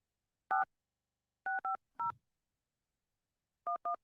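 A telephone number is dialed, six crisp DTMF keypad tones in short irregular groups, loud and clear against silence, with a faint low thump beneath one of them.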